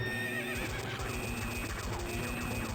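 A horse neighs loudly in the video game Commando Assault, a shrill wavering whinny that rises and falls across the clip over a busy layer of game sounds and hoof clatter.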